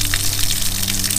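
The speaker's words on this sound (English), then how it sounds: "now we know when we put the water pump on that it'll flush good" Water pump pushing a strong flush of water through a line, a loud, steady gushing rush with a constant low mechanical hum beneath it.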